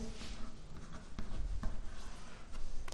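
Chalk or marker scratching across a classroom board during a Class 12 maths lesson on matrices, a few short close strokes and taps over steady room noise.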